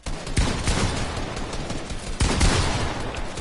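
Loud shotgun blasts boom in a competitive two-versus-two video game match, a couple of heavy shots close together early and another pair later, over dense continuous game noise.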